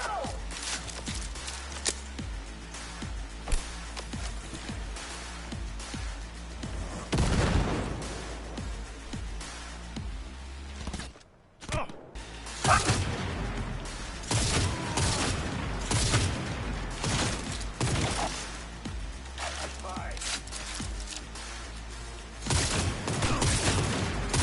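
Gunfire from a non-sniper weapon in Cyberpunk 2077, dense rapid shots and bursts layered with explosions and game action, loud and continuous with a brief dropout midway.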